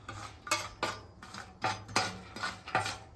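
Almonds, cashews and pecans are spread around a Blackstone griddle, making a series of close metallic scrapes and clatters from a spatula on the hot flat-top, uneven but steady, with no talking.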